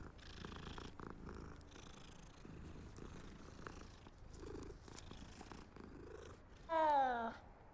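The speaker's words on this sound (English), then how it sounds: "And yes, cats. Lots and lots of cats." Cat purring in Hogwarts Legacy, a short, loud, close burst of patterned tones near the end after a stretch of quieter game ambience.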